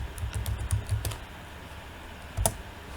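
Rapid, uneven taps on a computer keyboard while typing a print statement for a QBasic program, close and clear, a burst of keystrokes, a pause, then a few more, with no talking.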